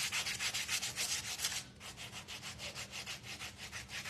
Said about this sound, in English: let's sand our white first